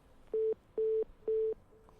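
A telephone busy tone after a disconnected call sounds three even, steady beeps at a regular rhythm, with a fainter fourth one trailing off.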